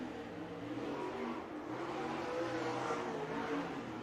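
Lucas Oil late model race cars roaring at Farmer City, a continuous engine drone heard from a distance, steady and moderately loud with slight rises in pitch as the cars run.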